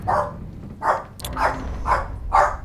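A dog barks five times at a steady pace, each bark fairly loud and close, over a low rumbling background.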